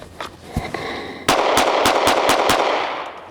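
A rapid string of pistol shots fired in a bill drill: a few scattered cracks, then six fast evenly spaced loud bangs close by, with no talking.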